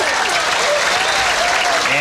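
Steady, dense applause from the crowd at a 1994 Pro Tour Championship pool match, Buddy Hall versus Kim Davenport, filling the whole stretch with broad hand-clapping noise and a few cheering voices mixed in.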